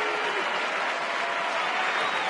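Sustained applause from a large baseball crowd at U.S. Cellular Field as the departing Chicago White Sox pitcher leaves the mound, a steady dense wash of clapping with no clear break.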